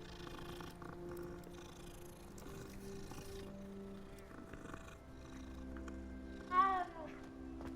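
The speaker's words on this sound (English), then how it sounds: "Another cat." A cat in the Hogwarts Legacy video game gives a single short meow over steady game music and ambience, brief and fairly clear near the end.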